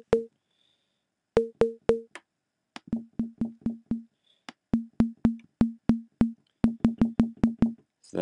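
Synthesized basic drum tone pitched at B flat 2 in Ableton Live, repeated short pulsed hits with a clear low pitch, played in an irregular pattern of about twenty taps, clean and without talk.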